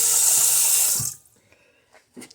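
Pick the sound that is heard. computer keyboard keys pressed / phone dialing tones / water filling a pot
water filling a pot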